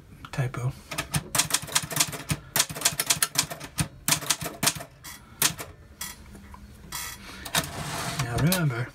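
Close, loud manual typewriter keystrokes rattle in quick irregular runs, with a brief carriage or mechanism whir near the end, and a voice speaks briefly among the clacks.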